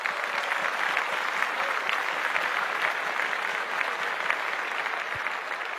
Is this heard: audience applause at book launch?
yes